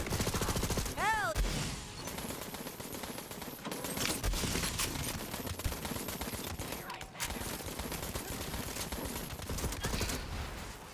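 Dense, loud gunfire from a weapon in the video game Borderlands 3, with repeated shots running through most of the stretch amid other game effects and occasional voices.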